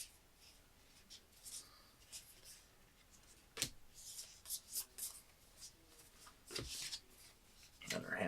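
Cards are drawn from a deck and handled at a table during the Overtime card game, soft papery slides and flicks coming in short bursts with one sharper snap, all quiet and close.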